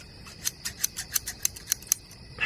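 A rusty pair of scissors snipping, about a dozen crisp metallic clicks in a quick, slightly uneven rhythm, close and clear with no voices.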